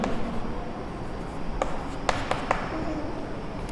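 Pen scratching across paper while working a class 7 maths exercise, a steady soft rubbing with a few sharper taps and strokes, close and quiet, with no talking.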